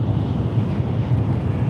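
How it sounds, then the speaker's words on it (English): A Shinkansen bullet train rushes past in the opposite direction, and its gust brings a steady, dense wind roar that buffets the microphone throughout, with no talking. "Every time the Shinkansen goes by the other way, the gust of wind is crazy."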